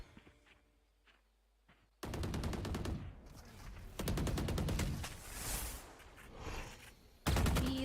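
Rapid automatic gunfire from the tactical shooter Valorant at a South Asia Challengers esports match: a quiet start, then loud sustained bursts of shots from about two seconds on, with short pauses between volleys and a final burst at the end.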